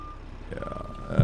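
Reversing beeps from a truck backing up a tridem trailer in American Truck Simulator, a faint steady tone over low engine rumble, ending in a louder low thump.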